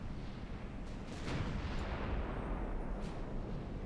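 Battleship guns firing armor-piercing rounds in the naval game Ultimate Admiral Dreadnoughts, a continuous heavy rumbling barrage of booms, low and dense throughout.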